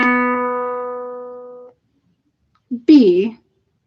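A single sustained pitched tone, the musical note B, rings and fades out, followed after a pause by a short spoken reply.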